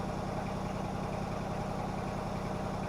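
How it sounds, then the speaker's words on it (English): An air compressor runs nearby, giving a faint, steady mechanical hum with an even drone and no changes in rhythm, heard alone without voices. "There's the blower, another air compressor"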